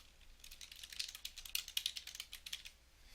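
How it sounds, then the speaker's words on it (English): Someone types a name and email address on a computer keyboard, producing a steady string of crisp, close key clicks that speed up in the middle, quiet and without voices. "I'm going to type in my name here and email address"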